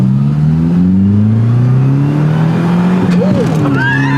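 A Honda race car engine revs loudly and continuously, its pitch climbing steadily with a brief squeal near the end, close and filling the whole stretch.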